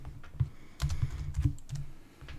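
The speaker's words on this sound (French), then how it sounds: "je tape sur Tabulation" A computer keyboard's keys, including the Tab key, are pressed in a quick irregular run of clicks, close by and clear, with no voices.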